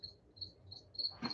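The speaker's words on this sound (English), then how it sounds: "there's a cricket in here." Indoors, a lone cricket chirps in short, evenly spaced bursts, faint and fairly close in an otherwise quiet room, with a soft bump near the end.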